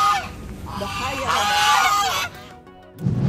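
Geese honking in a park, several loud overlapping calls up close, with a person talking over them and a short lull before another burst of noise.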